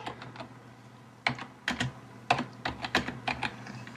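Someone types on a computer keyboard nearby, quiet at first, then a run of sharp irregular key clicks in short bursts, with no talking.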